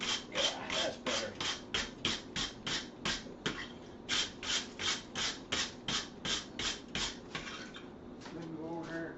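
A wire brush scrubs a metal workpiece being forged into a spatula, giving a steady run of rhythmic rasping strokes, close and fairly loud, with a short pause midway.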